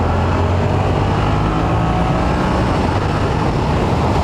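A Yamaha R7 motorcycle fitted with an Akrapovic full-system exhaust cruises on the highway, a loud, steady engine drone blended with heavy wind rush, continuous and unbroken.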